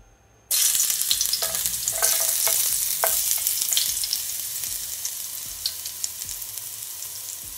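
Garlic drops into hot olive oil in a pot and bursts into a loud, close sizzle that settles into a steady hiss with scattered pops and stirring scrapes.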